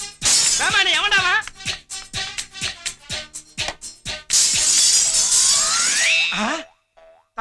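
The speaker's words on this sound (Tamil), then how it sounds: "தங்க மாதிரி இந்த ஜன்னல் உடைஞ்சிருச்சே." A window in a home shatters in a long, bright crash of breaking glass that spills through the space, bracketed by loud bursts of other sound effects and a rising cartoonish boing-like sweep before trailing off into silence.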